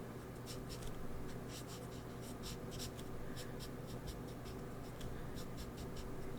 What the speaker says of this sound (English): coloring with markers